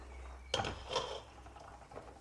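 A metal cooking pot clanks sharply onto a stovetop while gajrela, a carrot dessert, is being prepared, followed by a softer clink and faint kitchen rustling in a quiet room.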